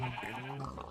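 Minecraft pigs tumble out during a grinder build, giving a brief, close, nasal grunting squeal with a wavering tone that lasts about a second.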